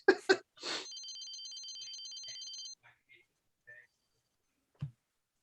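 A telephone rings in Leisure Suit Larry 3 video game with a bright, trilling electronic ring lasting about two seconds after brief talk, followed by scattered small clicks and blips.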